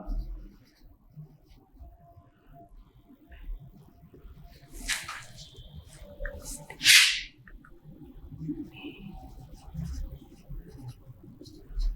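Faint scratchy strokes of writing during a maths lecture, with a couple of brief louder scrapes partway through, set under a quiet low background hum.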